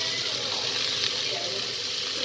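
Food sizzling and frying steadily in a pan at home, a continuous close hiss with faint clatter as pieces are flipped, no voices.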